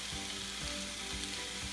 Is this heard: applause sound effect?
no